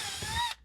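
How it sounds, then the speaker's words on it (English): A small drill bit boring up through an RV roof for a fan install, one short close whirring burst that spins down abruptly in under a second. "Now we're just going to take a small drill bit and go up into those dots."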